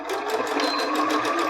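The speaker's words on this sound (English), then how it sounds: "I'm just going to put this right under my presser foot, and then I'm gonna slide my pin out right before I start sewing" A sewing machine runs steadily, stitching elastic into a fabric scrunchie with a fast, even mechanical whir held close up and loud, with no talking.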